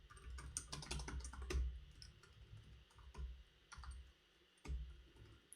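Typing code on a computer keyboard, a close run of irregular clicky keystrokes in quick bursts with brief pauses, with no talk.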